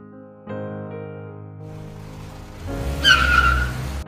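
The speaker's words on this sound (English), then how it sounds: "Oh, looks like the bus has pulled up." A bus pulls up nearby with an engine rumble, then a sharp high brake squeal near the end, loud and close, with no talking.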